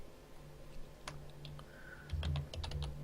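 Computer keyboard typing in a few scattered bursts of clicks, moderately close, over a low steady hum, with no voices.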